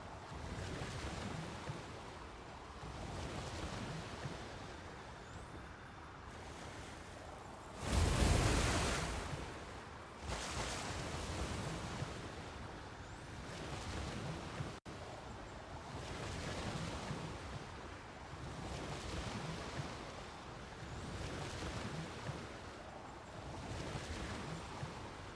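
Continuous ocean waves and wind out on open water in the game Genshin Impact, a steady wash of surf with one louder surge midway, no voices.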